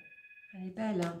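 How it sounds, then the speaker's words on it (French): A telephone rings with a steady electronic tone in the first half second, then a voice talks over the tail of the ring. "c'est le téléphone qui sonne, hein, excusez-moi"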